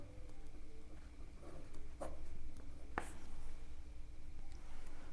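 A pen scratches out an answer on paper over a low steady background hum, with soft intermittent strokes and a few sharper ticks as it meets the page.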